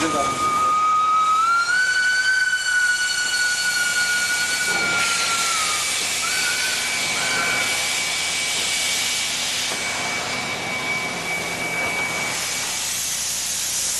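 A steam locomotive on an Indian railway lets out a long, loud, sustained whistle tone that bends downward and fades, wrapped in a continuous heavy hiss of escaping steam, close and dominant throughout.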